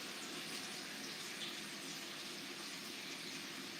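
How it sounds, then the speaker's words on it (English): Water pours from a tap into a pot of tomato and wine broth in a continuous, even hiss and rush, soft and steady with no voices. "So we put a little water in here"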